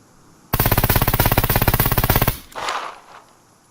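A rapid burst of rifle fire from an Mk18 or AS Val in the video game Scum, about two seconds of loud, evenly spaced automatic shots, followed by a short softer thud and rustle.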